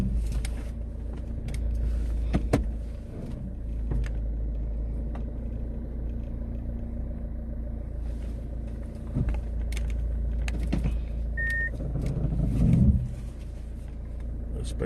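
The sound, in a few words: car being turned around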